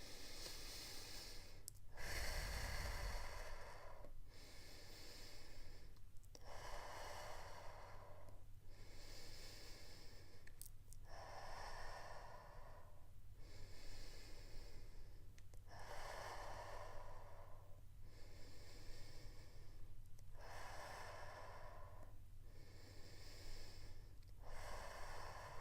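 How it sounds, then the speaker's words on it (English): Slow, deep breathing repeats in a steady cycle of long inhales and exhales, about ten breaths, close and soft with nothing else heard. "Take 6 deep breaths first to calm yourself."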